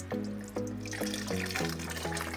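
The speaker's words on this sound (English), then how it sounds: "keep pouring my water over until I feel like I've got some weight" Water poured from a container over a Rawlings Encore youth catcher's mitt, a close splashing trickle broken into several separate pours with small drips and gurgles in between.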